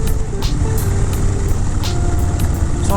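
A motorcycle cruising along a road, steady loud engine drone with wind rumble and periodic ticking bursts, close to the rider and alone without talk.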